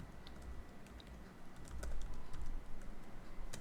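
Continuous typing on a computer keyboard, with rapid clicky keystrokes in an irregular rhythm that grow somewhat louder partway through, with no speech.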